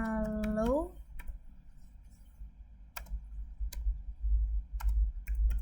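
Scattered keystrokes tap on a computer keyboard while a Debian router server is configured, sharp isolated clicks after a brief voice-like tone at the start, fairly close and moderately quiet.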